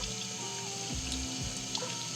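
Water runs from a kitchen tap over a freshly scaled fish being washed in the sink, a steady close splashing stream with shifting pitch as hands move under it, with no voice.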